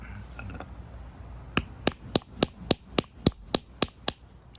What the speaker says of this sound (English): Now we're gonna go ahead and crack the shell